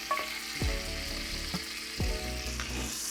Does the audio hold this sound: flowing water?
no